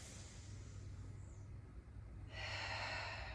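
Deep, slow breaths during a yoga chest stretch in a mat flow class: a soft, airy inhale builds quietly, then a louder, breathy exhale rushes out close by near the end.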